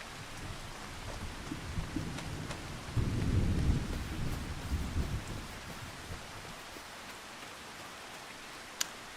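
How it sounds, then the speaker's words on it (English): Rain and thunder in the video game Farming Simulator 25: a continuous hiss of rainfall carries through, with a louder rumble of thunder swelling midway and a sharp crack near the end. "How long is this rain going to be here?"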